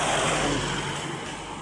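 Vehicles pass along a road with a steady, loud engine rumble and hiss of traffic, one continuous stretch without voices.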